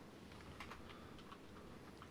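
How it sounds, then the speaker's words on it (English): Soft, irregular keyboard typing right beside the microphone, a quick patter of light clicks heard alone at low volume. "Sorry for the typing in the mic."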